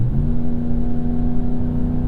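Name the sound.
Ram 1500 V8 truck engine revving while accelerating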